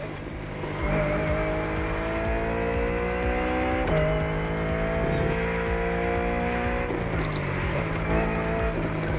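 Touring cars race in The Crew Motorfest, their engines loud and continuous, pitch climbing and dropping through gear changes, with brief tire squeal mixed in.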